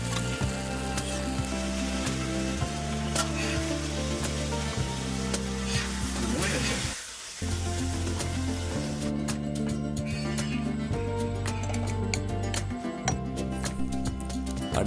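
Fish sizzles and fries in a pan while being cooked for banana-leaf meen pollichathu, a continuous crackling hiss with occasional stirring and clinks, fairly close and loud, with one brief dip midway and no talk.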